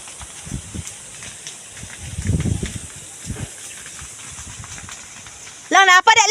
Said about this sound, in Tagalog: Grabe ang sunog oh.